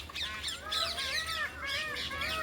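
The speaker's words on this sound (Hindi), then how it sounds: "पीकॉक" A peacock calls repeatedly at Bharatpur Bird Sanctuary in Rajasthan, a series of loud, nasal wailing cries that rise and fall and follow one another closely, heard fairly near over a low background hum.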